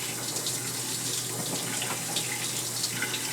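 Hot water runs steadily from a tap into a sink as a silver ring is washed, a constant close splashing rush with no talking.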